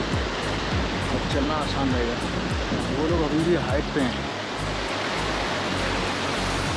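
Fast-flowing mountain river on the high Himalayan trail near Gunji toward Jolingkong sends up a steady, close, broadband roar of rushing water, with someone talking over it.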